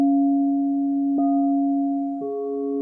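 A singing bowl struck gently at a sound healing workshop gives a steady, pure sustained tone, with soft re-strikes adding fresh shimmering layers that hang and overlap without fading much.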